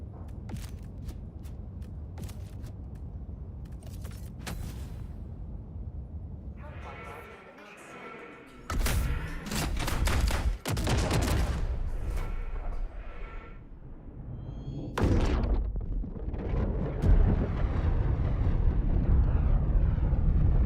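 Napalm Barrage strike in Helldivers 2, with heavy rumbling blasts and fiery crackle swelling into loud, dense explosions over a constant low roar of aircraft and battle noise, while a voice talks over parts of it.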